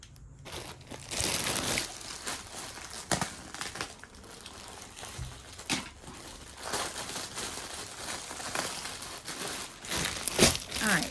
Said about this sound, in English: I just cut a hole in the bag